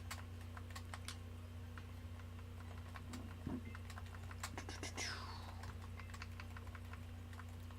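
Fast, irregular clicking of keys on a computer keyboard, faint and close, with a steady electrical hum underneath and a brief sweeping game tone partway through.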